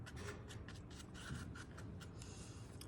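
A paintbrush rubs lightly across canvas in short crisscross blending strokes while painting a cloudscape, a faint, close, steady scratchy brushing with no talk.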